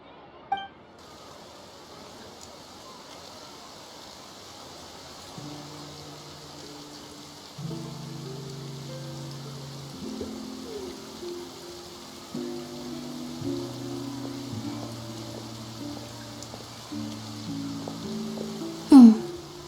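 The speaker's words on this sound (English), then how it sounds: "Looks like rain." Steady rain falls in the video game Genshin Impact as a soft, continuous hiss that runs throughout, under a gentle layered musical score, with a brief sharp chime near the end.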